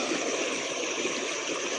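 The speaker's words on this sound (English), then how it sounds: "so this water, it's like a water stream. It's not even a stream, it's a waterfall." Water pours steadily over a drop beside a large rice field, a continuous broadband rush like a small waterfall, close and loud with no pauses.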